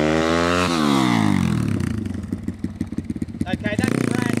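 Dirt bike ridden by a rider named Brad, skidding to a stop on the rear brake only: a loud engine note drops in pitch, then breaks into a choppy, pulsing scrape and chatter as the bike slides to a halt.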